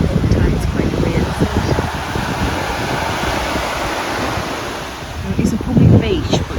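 Ocean surf at a public beach at Disney's Vero Beach, Florida, a steady low wash of waves with wind buffeting the microphone, swelling louder near the end, with voices faintly under the surf.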